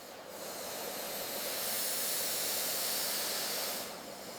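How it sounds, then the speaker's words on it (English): Steam hissing inside a soap factory, a steady, loud, broadband rush that swells slightly and then eases off near the end, heard alone without voices. "Steam releases the essence within."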